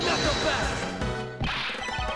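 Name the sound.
hallway mirror wall shattering, from the video game Ace Attorney Investigations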